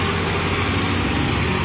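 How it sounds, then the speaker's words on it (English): Broad, steady engine rumble and road roar of a garbage truck passing nearby, loud and constant throughout with no clear rise or fall. "Garbage truck."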